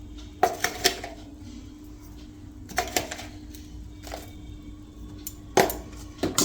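Cooled churma is stirred with powdered sugar in a pan, a spoon scraping and clinking against the metal in a few sharp, spaced bursts over a faint steady hum.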